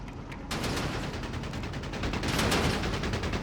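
A quad anti-aircraft gun in Company of Heroes 3 hammers away at a Panzer IV, a rapid, continuous stream of loud, dense shots with no letup, growing slightly heavier toward the end.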